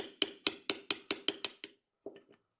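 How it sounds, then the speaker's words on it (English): Eight sharp metallic taps of a punch driving a roll pin out of a Walther PK380 pistol, evenly spaced and close, each ringing briefly, followed by a pause and a few softer knocks. "Try to tap it out the opposite direction."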